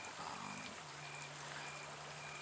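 Water flows at Hobble Creek as a faint, steady rushing wash, with a low hum running underneath.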